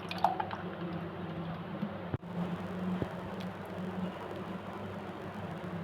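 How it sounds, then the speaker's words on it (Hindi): Almond sharbat is poured over a bowl heaped with ice, giving a soft, wet splashing and trickling pour with a few clinks and a brief sharp knock partway through. "अब इसमें हम ये ऐड करेंगे मज़ेदार"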